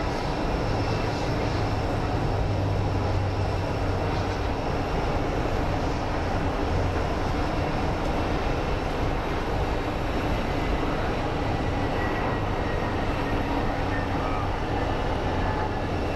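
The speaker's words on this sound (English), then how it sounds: "This guy buttered the landing." An airliner lands at Phoenix Sky Harbor airport with a steady, broad roar of engines and rushing air that holds at an even level throughout, heard from a distance with no talking.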